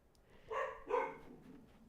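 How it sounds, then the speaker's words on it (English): Two pet dogs bark inside a house, two short muffled barks heard faintly from another room. "Sorry if you can hear my dogs. They're barking a lot right now."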